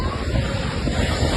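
Strong storm surf from Tropical Storm Dalila pounds the Acapulco coast at Revolcadero Beach, a steady loud roar of breaking waves mixed with heavy wind buffeting the microphone.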